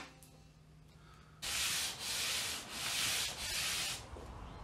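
Sandpaper rubbing over the balsa tailplane of a Ben Buckle Super 60 model aircraft: four loud, steady back-and-forth strokes, each a broad rasping hiss, following a quiet pause.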